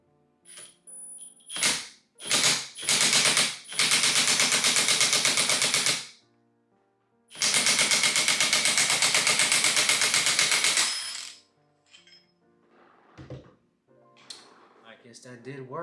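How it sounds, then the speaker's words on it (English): An impact wrench hammers at a bolt on an Audi S4 during supercharger work, loud rattling bursts in short stabs and then a long sustained run, followed by quieter clinks of tools and parts. "I'm gonna use my impact and try to like drill it out."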